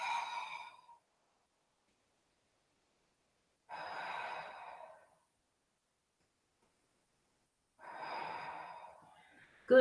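Slow breathing during a yoga pose on a mat, three soft, drawn-out breaths spaced evenly with long silences between them, close and quiet.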